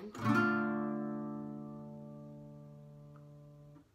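A single guitar chord is strummed with the low E and A strings muted, one bright attack that rings out and decays slowly and cleanly for several seconds before being damped.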